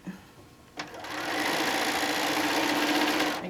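A sewing machine stitching a quilt seam, starting after a couple of clicks into a fast, even mechanical whir that runs steadily for a few seconds, close and loud with no talk.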